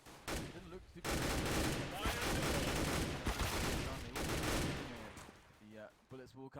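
Counter-Strike: Global Offensive match with heavy, continuous gunfire, loud overlapping bursts and rapid shots filling most of the stretch, then tapering to quieter sounds near the end.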